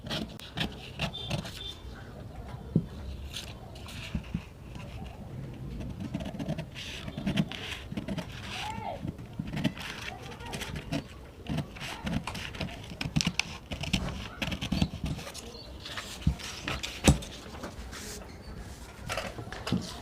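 Scissors cutting fabric for a six-year-old child's capri, with steady close snipping and rustling of cloth repeating irregularly throughout.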